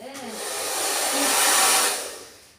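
A hair dryer blows a close, steady airy whoosh that swells in loudness and then tapers off over a couple of seconds, alone without talk.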